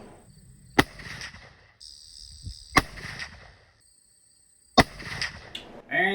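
A muzzleloader firing Barnes 290-grain TEZ bullets over White Hot 150 pellet charges, three sharp, loud outdoor shots spaced a couple of seconds apart, each followed by a short rumble, with insects chirping steadily in the background.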